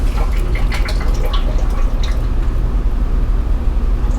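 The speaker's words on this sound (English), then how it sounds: "I'm just gonna let that drain until it's done dripping" Brownish transfer case fluid draining from a VW Touareg into a pan, a close, loud continuous patter of drips and trickling liquid, with denser splashes at first that even out into a steady flow.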